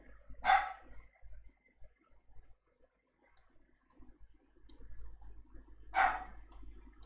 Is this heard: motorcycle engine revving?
no